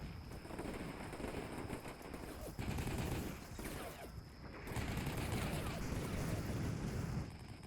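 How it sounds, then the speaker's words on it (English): Russian small arms fire in the video game Combat Mission Black Sea crackles in dense bursts of rapid shots, rising and dropping across the stretch with wind-like rumble underneath. "I am receiving some small arms fire from the Russians"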